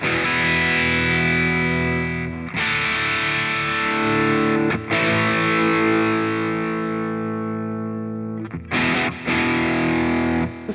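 A heavily distorted electric guitar plays a hard rock rhythm part through a Positive Grid Spark amp: sustained crunchy chords struck every couple of seconds and left ringing, with quick choppy strums near the end.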